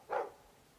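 A dog barks once in the Dragon Age 2 video game, a single short, fairly faint bark standing alone against a quiet background.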